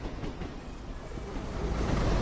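A train passing in the Train Sim World game, a steady rolling rumble with rail clatter that grows slightly louder as it goes by, with no talking.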